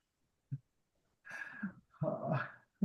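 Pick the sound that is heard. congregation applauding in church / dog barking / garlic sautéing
dog barking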